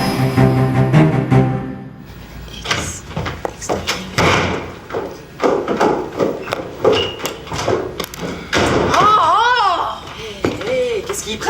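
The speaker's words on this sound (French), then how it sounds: "Qu'est-ce qu'il prend, Simon, de claquer la porte comme ça?" A door slams shut with a heavy thud, surrounded by people talking, a voice and some laughter in a domestic scene.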